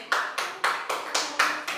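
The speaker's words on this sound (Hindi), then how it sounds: "वेरी गुड, ताली बजाओ इसके लिए।" Schoolchildren in a classroom clap together to praise a classmate, seven sharp, steady claps in even rhythm, loud and near, with no voices.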